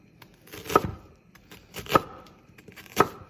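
A knife chops onion on a cutting board in three sharp, separate strokes spaced about a second apart, close and clear, with quiet gaps between and no talking.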